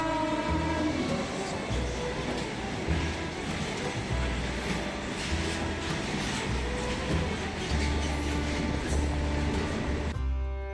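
Trains rumbling past a railway station platform, a loud, continuous low roar of wheels and carriages that fills the whole stretch and eases off only at the very end.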